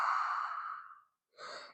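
A long, breathy open-mouth exhale during a yoga breathing exercise fades out after about a second, then a fresh breath follows after a short silence, close and soft with no talk.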